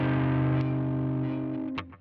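A Gibson SG electric guitar played on its hot neck pickup through a distorted amp rig rings out as one loud sustained chord that slowly decays, then a few short picked notes and string noise near the end.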